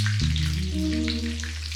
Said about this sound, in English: Be careful of the popping grease.